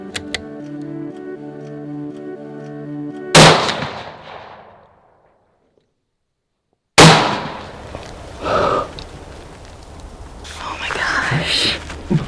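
A hunting rifle shot cracks sharply and loudly, then decays and leaves near silence. A second loud blast or impact follows, and afterward come rustling movement and faint whispering voices close by.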